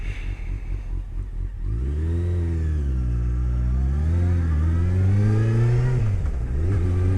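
A motorcycle loaded with full luggage accelerates, its engine note rising and falling through the gears as a steady, close mid-pitched drone with no talking.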